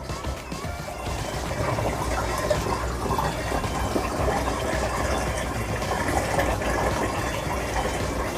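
Water rushing into a 200 gallon Innovative Marine EXT reef aquarium during plumbing setup, a steady dense splashing and gurgling pour that carries on evenly throughout.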